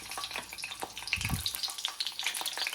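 Eggplant slices frying skin side down in hot oil, a steady close crackling sizzle with scattered pops and spits running throughout.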